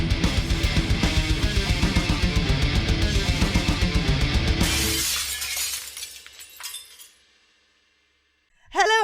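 A glass smash effect opens a music and pop culture show. A rhythmic musical sting builds, then a loud shattering crash gives way to tinkling shards settling, a brief silence, and a sharp final accent.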